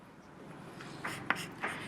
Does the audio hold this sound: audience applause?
no